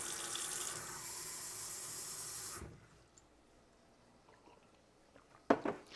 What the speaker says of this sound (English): I'm gonna have another sip of water, refill my water cup